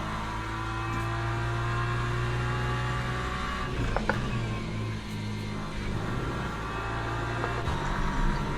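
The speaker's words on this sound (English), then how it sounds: "I think the M4 is quite happy to be revved out." A BMW M4 race car engine in Le Mans Ultimate drones steadily at high revs, a continuous buzzing tone that wavers slightly through gear changes with a couple of faint clicks, heard from onboard without talking.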